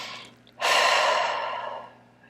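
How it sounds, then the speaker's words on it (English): A deep, close audible breath during EFT tapping, one long airy inhale or exhale that swells suddenly and trails off softly over a couple of seconds. "Breathe."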